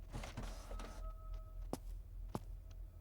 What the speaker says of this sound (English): Where's the printer?